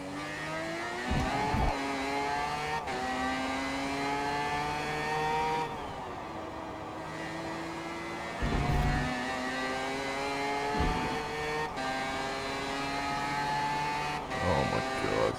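A race car with a 20B three-rotor rotary engine driven on track: a loud, buzzing engine that climbs through repeated gear shifts, with brief drops and pops between revs, heard from inside the car.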